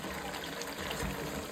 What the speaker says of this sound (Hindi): इसमें और पानी वानी डालेगा